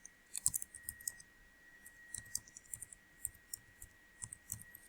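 Keys clacking on a computer keyboard in short irregular bursts, crisp light taps heard close and fairly quiet in an otherwise still room.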